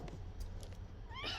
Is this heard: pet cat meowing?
yes